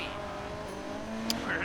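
Engine roar from a car accelerating in a mobile racing game, a steady sustained drone with a brief sharp chirp near the end, under light background talk.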